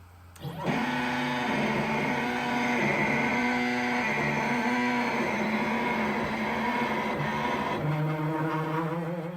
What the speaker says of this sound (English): The axes were sticking again, challenging the NEMA 17 motors